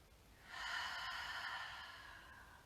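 A single slow, smooth breath is pushed out in a yoga breathing exercise. The breathy exhale is soft and close and fades gently over about two seconds.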